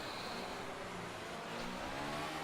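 Racing car engine droning steadily at moderate distance, a continuous mid-pitched revving tone with slight rises, no voices.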